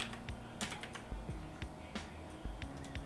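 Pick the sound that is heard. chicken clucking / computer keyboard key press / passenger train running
computer keyboard key press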